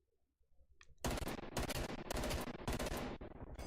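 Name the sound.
gunfire during a gunfight in a video game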